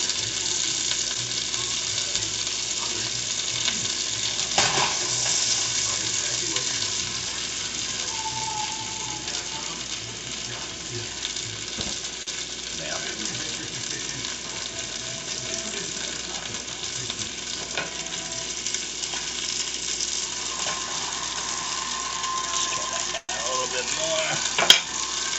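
Food sizzles and fries steadily in a pan over low heat, a continuous soft crackling hiss close by with occasional small clinks of a utensil, no talking.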